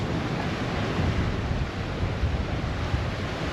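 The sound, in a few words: sea waves seen from a cruise ship deck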